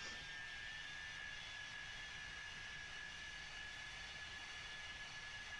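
Steady broadband roar of a large airplane in the X-Plane 11 flight simulator, a continuous even engine and wind drone with a faint high whine, unchanging throughout and fairly quiet.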